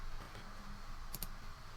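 A few faint, sharp mouse clicks on a web page in a quiet room, two quick clicks close together near the middle, with low background hiss and no talking.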